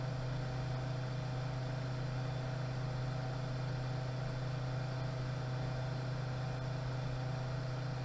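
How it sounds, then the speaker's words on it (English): A variable speed pool pump runs steadily with a constant low hum and faint broadband whirr, unbroken and even in level throughout, no voices over it. "let you observe the actual noise the pump is making"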